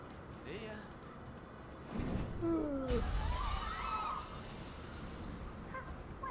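Glass shattering in the Persona 5 video game, a sudden loud crash and spray of breaking glass midway through, set against game music and sound effects, with voices speaking around it.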